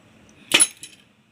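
A glass straw and a conical glass cylinder clink together from a science kit, giving one sharp close tap followed by a fainter second touch, then quiet.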